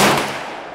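A rifle fires once at an outdoor shooting range, a sharp loud crack with a broad burst that rings and decays over most of a second, with no voices.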